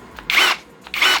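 A WORX 12V cordless drill drives a screw in two short, loud, whirring bursts separated by a brief pause.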